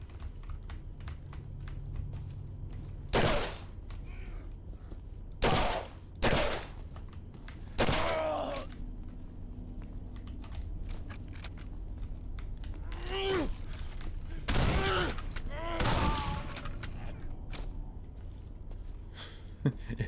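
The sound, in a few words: enemy firing a shotgun in Condemned: Criminal Origins video game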